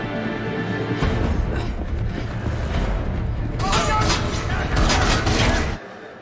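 Heavy gunfire from an episode of The Expanse, a continuous rattle of rapid shots with a denser, louder burst toward the end, heard under excited voices reacting.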